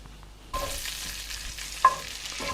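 Bacon with a spoonful of butter sizzles in a pan, a steady close crackling hiss that starts abruptly and holds, with a brief clink of utensil against the pan partway through.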